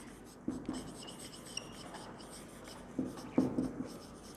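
Chalk on a classroom blackboard as a teacher writes, a few faint scratchy strokes in two short clusters against quiet room tone.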